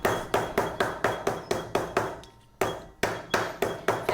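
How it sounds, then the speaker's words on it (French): A hammer pounds plastic flat for recycling in about a dozen sharp, evenly spaced, loud blows, with one short break before the hammering resumes. "avec le marteau"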